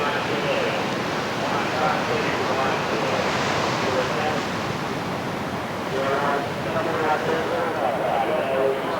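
Surf breaking steadily at Clifton Beach, Tasmania, a continuous loud wash of waves and wind rumble filling the whole stretch without pause.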